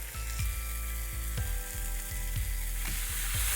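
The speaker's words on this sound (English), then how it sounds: "Once the mushrooms and the onions just kind of begin to get a golden brown color" Mushrooms and onions sizzle steadily in a hot pan, a dense continuous frying hiss with periodic low thumps running underneath.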